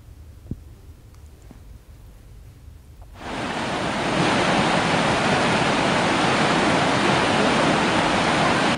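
Floodwaters of the swollen Narmada river rush past, a loud broadband roar that bursts in after a few seconds of quiet and then holds steady and close, with no voices.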